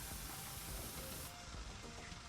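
Steady loud hiss of a pressure washer spraying water in Power Wash Simulator, a continuous broadband jet running the whole time with no talk.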